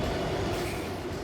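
SCT freight train 3MP9 rolling along the track, a loud, continuous close-up rumble of wheels and wagons with a broad steady roar and faint rail hiss.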